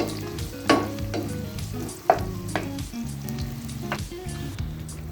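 Mutton frying in a pan for a Bohra white kofta curry, a quiet, steady sizzle with occasional sharp clinks and stirring scrapes, close and without talk.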